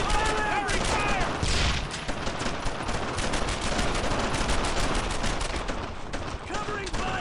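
Dense, continuous gunfire from a World War II squad battle in the video game Brothers in Arms: Earned in Blood, rapid rifle and machine-gun bursts layered loudly throughout, with soldiers shouting in the mix.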